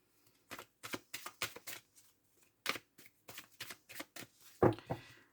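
Tarot cards shuffled by hand for a nine-card spread, a run of quick papery riffles in bursts with short pauses, close and crisp in a quiet room.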